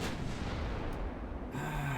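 Naval gunfire in the game Ultimate Admiral Dreadnoughts, with 10-inch and 11-inch guns, heard as a heavy continuous rumbling boom that cuts off and gives way to quieter ambient noise with a faint tone.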